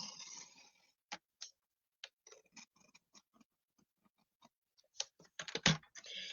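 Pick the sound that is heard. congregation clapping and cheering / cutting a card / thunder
cutting a card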